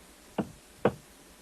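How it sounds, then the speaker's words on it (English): Two sharp, distinct knocks on a door, about half a second apart, close by in an otherwise quiet room. "What was that knocking?"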